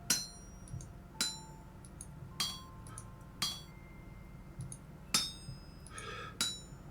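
A smithing hammer in Vintage Story strikes metal on an anvil six times at irregular intervals of about a second, each blow a bright ringing clink that decays quickly, with a quiet background and no speech.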